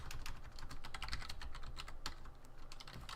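Fast typing on a computer keyboard, with close, steady key clicks in quick irregular bursts for several seconds and no voices.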